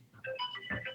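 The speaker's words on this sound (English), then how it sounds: "Is that you? Yeah, that's my phone." A mobile phone rings with a short melodic ringtone, a few stepped tones in quick succession, heard faintly on its own with no talking.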